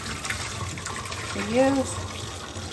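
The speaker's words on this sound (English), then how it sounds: "And once again, just one more time, cold water rinse." Cooked noodles are rinsed under a cold-water faucet, a steady gushing flow running throughout while a person speaks briefly over it.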